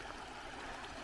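Shallow water trickles and streams from Lake Itasca at the headwaters of the Mississippi River, a steady, soft, continuous babble heard up close with no voices.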